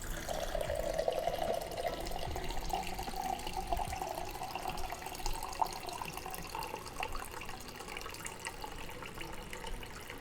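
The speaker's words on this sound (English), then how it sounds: "let us pour another drink" A drink poured into a glass gives a steady, moderately quiet liquid stream whose tone climbs as the vessel fills, running unbroken for about ten seconds with no talking.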